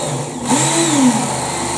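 A Work Sharp belt knife and tool sharpener runs steadily nearby, a loud motor whir with the abrasive belt spinning, its pitch wavering slightly in a continuous hum with no talking.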